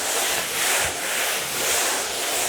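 A stairwell wall being sanded by hand, a steady broadband rubbing and scraping with gentle back-and-forth swells, close and continuous with no talking.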